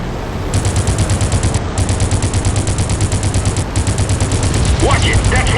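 Rapid machine gun fire in the Crimson Skies video game, long sustained bursts of fast rattling shots with a short pause between them, loud and close.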